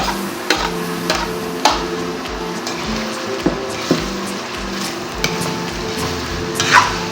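Pork picadillo with fried potatoes and carrots is stirred in a pan, giving a steady rhythmic scraping and clinking of a utensil against metal over a low sizzle, with several sharper knocks along the way.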